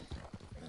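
A big draft horse with long, thick hair on its hooves clip-clops in Red Dead Redemption 2, a couple of soft dull hoof thuds in a brief, muffled burst.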